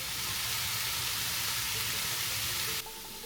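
Chopped onion and mushrooms sizzle steadily in a hot oiled pan, a dense, loud hiss and crackle that holds without a break and drops slightly in level just before the end, with no talking.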